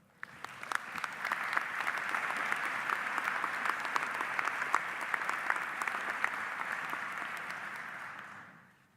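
Sustained audience applause at a medical colleges association keynote address, steady dense clapping filling the hall and tapering off at the end.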